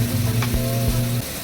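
Diced squash sautéing in a pan with oyster sauce gives a steady, close sizzle under a constant low hum, with a couple of soft stirring scrapes.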